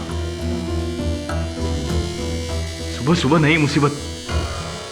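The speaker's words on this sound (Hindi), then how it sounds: "कल मिस्टर गिल ने एसी ठीक करवाया था और आज फिर से वही आवाज।" A faulty air conditioner in a bank gives off a persistent electric buzz, steady and fairly loud, running under a voice that rises into shouting near the end.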